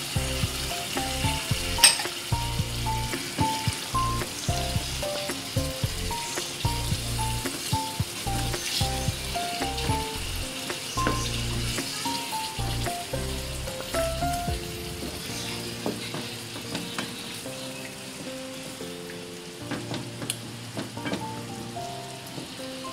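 Mutton karahi with full-fat yogurt, green chilli paste and chopped ginger sizzles steadily in a pan over a low flame, a continuous close crackle with scattered pops and occasional stirring, without any talk.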